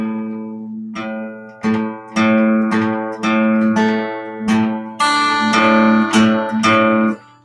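A guitar's sixth string fretted at the fifth fret and plucked for tuning gives a series of about eight clear, ringing notes in a steady rhythm, close and loud, with no talking.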